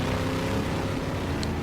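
BriSCA F1 stock cars roar past on the Northampton tarmac oval at the close of a European Championship race, a dense continuous engine drone at steady loudness with no talk.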